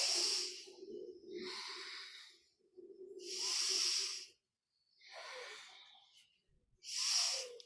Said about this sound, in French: La respiration est par le nez, toujours puissante.